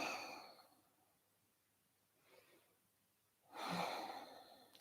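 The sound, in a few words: deep breaths during yoga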